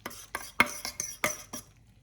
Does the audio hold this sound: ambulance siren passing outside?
no